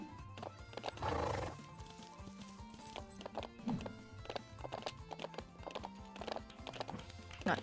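Horses in the video game Rivershine gallop with quick, steady hoofbeats, and a loud whinny rings out early, all over light background game sound.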